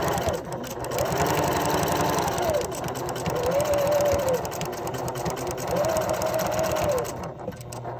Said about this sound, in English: just continue sewing with your edge of your fabric lined up